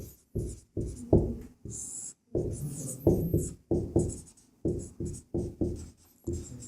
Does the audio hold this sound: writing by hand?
yes